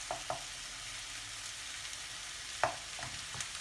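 Eggs are scrambled in a hot pan for Thai fried rice, giving a soft continuous sizzle broken by a few scattered scrapes and taps of a utensil against the pan.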